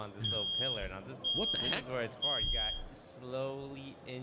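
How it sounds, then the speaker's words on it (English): A household fire alarm beeps in short, evenly spaced electronic tones, three clear chirps running under near, continuous excited talk from a gamer. "That's my fire alarm."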